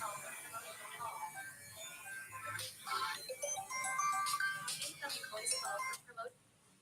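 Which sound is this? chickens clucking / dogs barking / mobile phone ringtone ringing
mobile phone ringtone ringing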